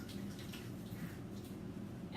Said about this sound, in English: I'm going to rinse off my hands